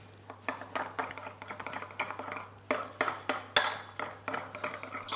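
A spoon or utensil stirs hummus with lime juice into a runny dressing in a bowl, making a series of sharp clinks and scrapes in an irregular, quick rhythm, close and clear with no talking.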